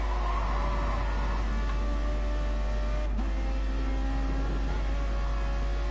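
A Ferrari race car in Gran Turismo at Dragon Trail heard on board, its engine droning loud and steady at high revs with a brief dip midway, alone with no voices.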